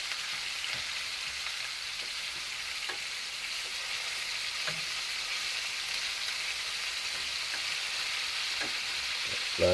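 Oxtail sears in a pan with a steady, loud sizzle and spatter while the pieces are flipped, marked by occasional soft knocks and scrapes, and no voices are heard.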